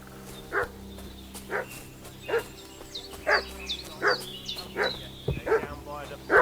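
In the video game Kingdom Come: Deliverance 2, a dog barks repeatedly at a distance, making regular short yaps roughly every second over a quiet ambient background.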